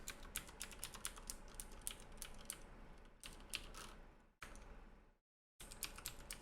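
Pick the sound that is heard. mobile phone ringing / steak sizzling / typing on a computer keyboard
typing on a computer keyboard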